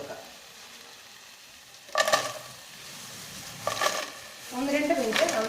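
Previously fried potatoes stirred in a hot pan for a spicy potato fry, with scraping stir strokes in three bursts over a continuous soft sizzle.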